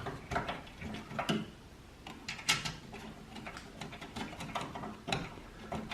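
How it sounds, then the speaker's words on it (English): Small screws being driven into a computer case during a PC build, a run of quick clicky metallic ticks and scrapes at close range, irregular and fairly faint, with no talking. "Put my 2 screws in there, hold it in place."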